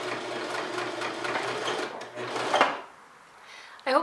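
A sewing machine runs steadily, then sews backwards and forwards with reverse held down to lock a seam. A close, continuous mechanical whir stops around the midpoint, followed by a short burst and a final clunk.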